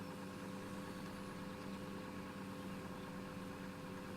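A tractor engine in Farming Simulator 2013 runs at a steady low idle, a faint, even mechanical hum with no variation.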